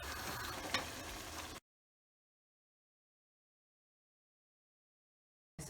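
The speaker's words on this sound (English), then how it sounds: "the oil's risen and it's spitting oil at the top" Meat frying in oil in a pan for lasagne, with spitting oil crackling steadily and densely up close for about a second and a half, then dead silence, and the sizzle briefly returns at the end.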